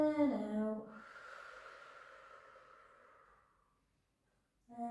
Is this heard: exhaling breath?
yes